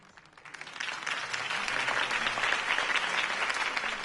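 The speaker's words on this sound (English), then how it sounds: "could have heard that applause" A crowd bursts into applause after a campaign speech for Harvey Dent, the clapping swelling quickly into dense, sustained, loud cheering that fills the space.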